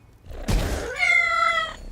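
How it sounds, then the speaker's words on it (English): Cats meow in a short game sound effect summoned by an old lady card, a thump followed by a bright, wavering meow-like cry lasting under a second, fairly close and alone. "I like the fact you've added in the old lady who now summons 3 fluffy cats."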